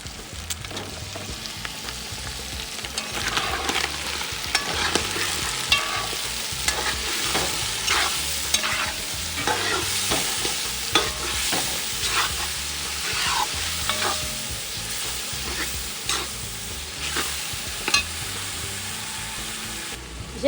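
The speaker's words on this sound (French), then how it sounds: "J'ai un peu laissé ma tomate mijoter." Tomato and chili sizzle and simmer in a pan, a steady frying crackle with occasional stirring scrapes throughout, close and continuous without talk.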